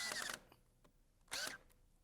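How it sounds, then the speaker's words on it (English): A power drill bores clearance holes in wood for 3-inch rust-resistant deck screws while a frame is built, with two short loud bursts of drilling separated by a quiet pause. "Amy drills clearance holes for 3-inch rust-resistant deck screws"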